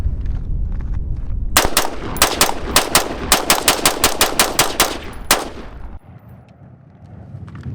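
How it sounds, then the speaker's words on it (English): An LWRC rifle fitted with a Blackout Defense Zero drop-in trigger fires a quick string of about fifteen loud, sharp shots outdoors in rapid, slightly uneven rhythm, then stops. "I had John from True Shot take a rip on the LWRC with the trigger that I put in there"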